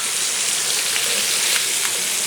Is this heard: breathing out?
no